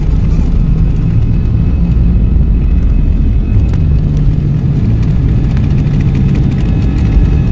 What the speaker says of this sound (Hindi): तो फाइनली हमारी फ्लाइट ने अपनी उड़ान भर ली थी।